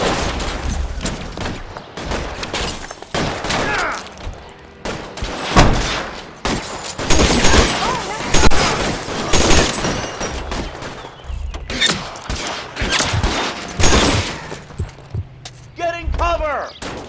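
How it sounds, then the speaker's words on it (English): Dense gunfire fusillade in the L.A. Noire video game, rapid overlapping shots and thuds sustained over many seconds, with in-game voices talking over the firefight. "Fire a warning round."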